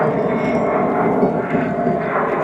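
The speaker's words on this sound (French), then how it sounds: "on a encore un avion là, Emirates, qui passe" An Emirates airliner passes overhead, a steady, broad roar with no talk over it that neither swells nor fades during the clip.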